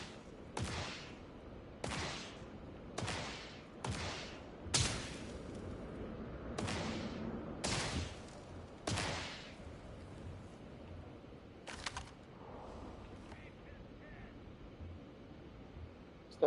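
Gunfire in Starfield comes as about ten separate sharp shots spaced a second or so apart, fairly loud against a quiet background, then a couple of fainter reports near the end.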